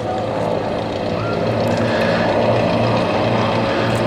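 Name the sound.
RV8 aircraft flying a display pass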